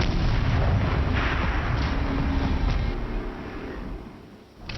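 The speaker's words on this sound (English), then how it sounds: "Rotate turret! And fire!" Heavy turret artillery in the video game Horizon Zero Dawn pounds away in a sustained, loud rumble of overlapping blasts, easing off near the end.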